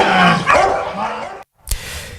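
A dog barks at a training ground, loud and close, with sharp barks and whining yelps for over a second, then a brief silence and one more sharp yip.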